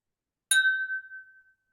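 A single bright clink of glasses touching in a toast, ringing clearly and fading out over about a second in otherwise quiet surroundings.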